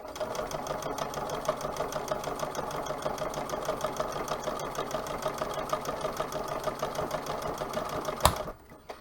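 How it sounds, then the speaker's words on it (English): A sewing machine on the floor stitching and reverse-stitching seams on a pair of pants, running in a steady, fast mechanical whir with rapid needle ticking for several seconds, up close, ending with a sharp clack. "So I'm just reversing and closing my seams."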